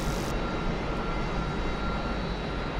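Piston aircraft engine in the DCS flight simulator running with a steady, loud, dense roar that holds evenly throughout, with no voices.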